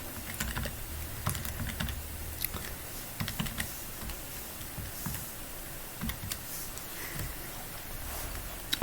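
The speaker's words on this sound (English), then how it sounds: "let's type that on into our calculator and see what we get" Fingers tap numbers into a calculator during a sine and cosine rule maths lesson, a steady run of quick, light clicking keypresses with short irregular gaps, close and alone.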